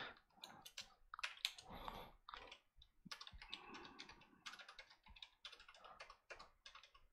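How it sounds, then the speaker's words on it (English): Rapid, uneven keystrokes on a computer keyboard, close and fairly quiet, with bursts of clicking and brief pauses between words as code is entered. "If I can type."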